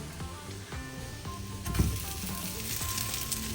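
Draniki, Belarusian potato pancakes, sizzling in a frying pan with a steady crackling hiss, close and continuous, with a clunk partway through and some kitchen background noise.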